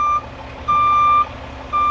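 A truck backing up under a hanging salt spreader sounds its reversing alarm, three steady high beeps in a slow even rhythm over a low engine idle, with no talk.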